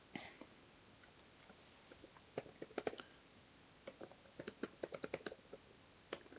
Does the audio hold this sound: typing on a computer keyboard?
yes